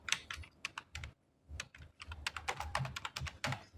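A name is typed on a computer keyboard in a quiet room. The key taps are close and crisp, coming in quick irregular bursts with one brief pause near the start.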